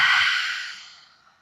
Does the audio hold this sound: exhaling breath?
yes